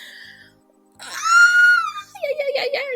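A woman screams out of embarrassment, a high, drawn-out wail held for about a second after a brief vocal sound, followed by wavering moaning cries that rise and fall.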